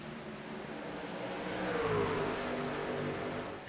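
Race trucks in the iRacing video game pulling away at the green flag on the Atlanta oval, a dense blended engine roar swelling as they accelerate, with one tone sweeping upward through the pack, no voices.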